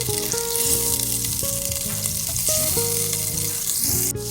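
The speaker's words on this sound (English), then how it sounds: "I'm going to add in my 2 tablespoons of butter, and we're going to let that melt." Butter melting in a heated pot over medium heat, two tablespoons sizzling with a steady, close frying hiss and crackle that runs unbroken throughout, with faint tonal hum underneath.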